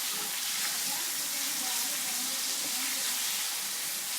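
Chicken keema with potato frying and being stirred in a pan gives a steady, dense sizzle that holds even throughout, close and fairly loud, with no talking.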